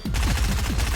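Rapid submachine gun fire in Fortnite, a dense continuous burst of close, loud shots in fast rhythm filling the whole second.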